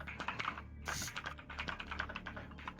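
Quick bursts of typing on a computer keyboard, close and fairly quiet, with irregular clicking keystrokes and a brief pause near the start, no talk over it.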